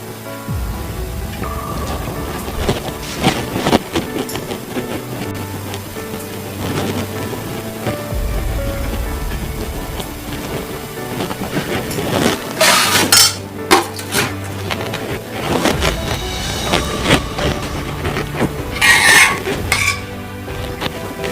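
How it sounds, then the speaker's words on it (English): Pots and utensils clink and scrape on a cooker as coconut milk goes into a pot for a Thai beef red curry, with steady stirring, metallic knocks and a soft sizzle running throughout, close and fairly loud with no voices. "Place the pot on the cooker and we add the coconut milk"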